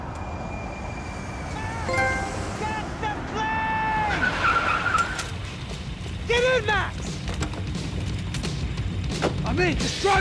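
A car in the Max Payne 3 video game drives hard with repeated tire skids and squeals, while engine roar and game effects sound loud and busy and a voice speaks over the action.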